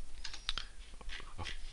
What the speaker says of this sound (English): press the delete key on the keyboard